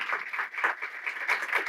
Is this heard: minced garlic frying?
no